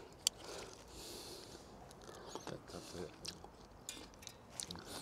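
Crisp table grapes of the early Šikilný Vals variety being bitten and chewed close up, soft crunches and wet squishes repeating irregularly over a faint background hiss.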